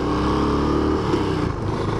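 A Suzuki LS650 Savage's 650 cc single-cylinder engine runs loud and close with a low, throbbing thump, its pitch shifting slightly midway.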